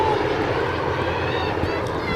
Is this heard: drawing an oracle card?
no